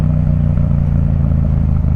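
A Yamaha MT-07 naked motorcycle ridden through town, with a loud steady low engine drone and rumble that stays close and constant, without distinct revving.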